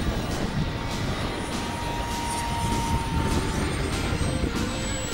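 A radio-controlled model jet comes in to land on a coarse gravel tarmac runway at a model jet meet in Temora, Australia, its engine whine steady and loud with a thin high tone sweeping across the few seconds.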